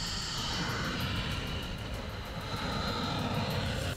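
Missiles launching in the Russia-Ukraine war, heard as a loud, continuous roaring rush that stays steady throughout with no voices.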